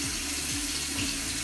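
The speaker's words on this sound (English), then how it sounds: "rinse the eyelashes with a little bit of cold water" Cold tap water running steadily into a sink while eyelashes and a small plastic brush are rinsed, a continuous close splashing rush with no pauses.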